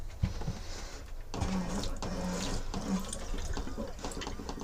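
Water rushes continuously through a caravan toilet as it is flushed, a steady close gurgling wash with a few clunks at the start.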